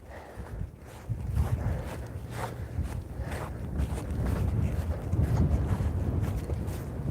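Wind gusts blow steadily and loudly against the microphone during a walk through deep snow in Cheyenne, Wyoming, a broad low rumble that builds toward the end with no talking.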